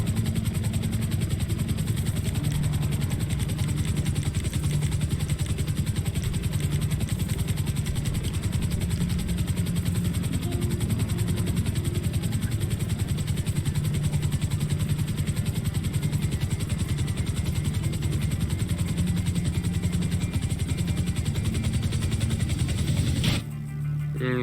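Helicopter engine in the video game GTA V FiveM: a loud, continuous turbine whine with a throbbing rotor drone that holds steady throughout, cut off abruptly at the end.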